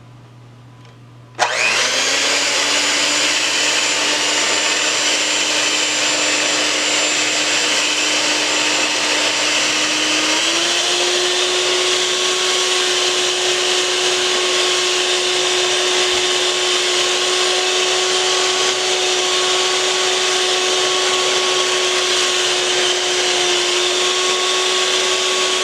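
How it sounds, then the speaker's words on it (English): A blender whirs through akara batter of cod and green plantains, starting abruptly after a brief quiet and running as a loud, steady motor whine that shifts pitch slightly partway through and continues unbroken. "I'm going to blend it"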